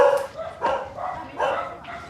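Dogs barking indoors, several muffled barks and yips coming in irregular bursts at moderate distance, with no voices over them.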